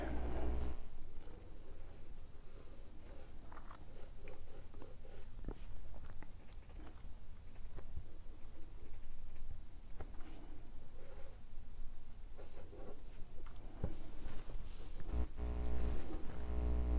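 Pencil or pen strokes scratching across paper while straight lines are drawn, a steady run of soft, close scratches with brief pauses over a quiet background.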